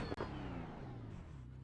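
A damaged race car in a VR sim racing game at Bathurst, bumper hanging off, rolling into the pits with a steady mid-pitched engine drone and a brief dip near the start, quiet and alone.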